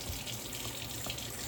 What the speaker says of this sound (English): So I'm gonna turn the water on, might be a little bit hard to hear